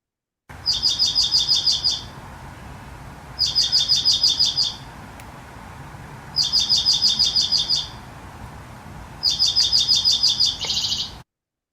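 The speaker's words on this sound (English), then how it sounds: "will you please play the song of the dark-eyed junco" A dark-eyed junco sings four loud, close trills, each a rapid run of identical notes lasting about a second and a half. Short silent gaps separate them.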